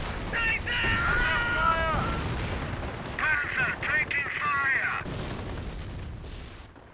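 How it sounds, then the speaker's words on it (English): A rocket barrage in Company of Heroes lands as a dense burst of whistling launches and rumbling impacts in two waves, loud and busy, then fades into quieter battlefield noise. "Looks like he's going to receive some rocket barrage"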